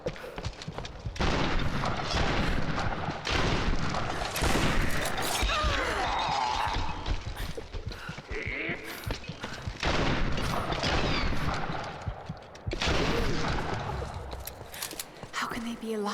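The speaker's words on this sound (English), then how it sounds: "Then I equipped the shotgun." Shotgun blasts and gunfire boom repeatedly in the video game Tomb Raider 2013, thick with crashes and impacts, while voices talk over the action.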